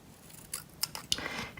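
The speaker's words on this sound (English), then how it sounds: "I'm going to cut out 2 triangles for the ear" Scissors snip through paper while cutting out two small triangles for paper-cup cat ears, giving a few short, crisp close-up cuts spaced apart over a quiet background.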